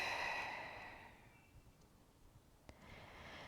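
A long, audible exhale during a beginners' yoga session, strongest at the start and fading into a quiet room with a small click near the end.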